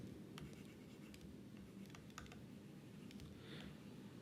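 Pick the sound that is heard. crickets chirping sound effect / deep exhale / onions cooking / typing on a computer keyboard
typing on a computer keyboard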